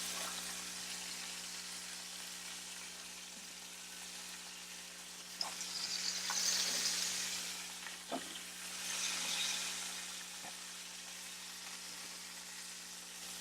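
Thick goose breast sears in a hot pan with a steady, broadband sizzle that swells and fades, punctuated by a few sharp crackles and spits of fat; no voices.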